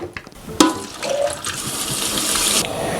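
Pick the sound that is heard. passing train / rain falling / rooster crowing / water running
water running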